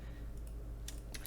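Faint keyboard shortcut presses and a mouse click on a computer make a few soft, quick clicks over a low background hum, closely spaced near the end.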